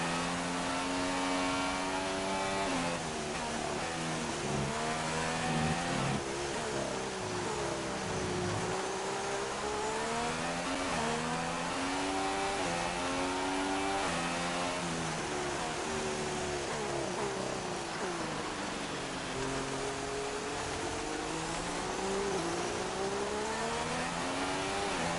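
Formula 1 car engines in the racing game F1 2016, including a high-torque Mercedes power unit, scream continuously as they rise and fall through gears, loud and close for the whole stretch with no talking.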